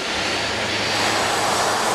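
Steady broadband roar of a Cold War military aircraft's engines, continuous and loud throughout with a low droning hum underneath, no voices.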